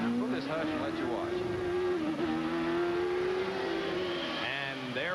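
A 1988 CART race car, driven by Al Unser Jr, revs around the Elkhart Lake road course, its engine note climbing and dropping as it shifts through gears, loud and continuous with a commentator talking over it.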